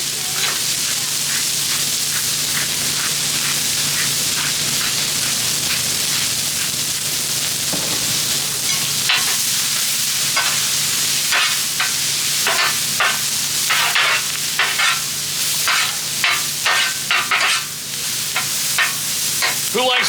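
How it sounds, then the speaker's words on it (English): Vegetables stir-fry on a Blackstone griddle with steady loud sizzling, and a spatula scrapes and clatters against the flat top in irregular bursts that grow busier toward the end. "Who likes doing stir-fry on the griddle?"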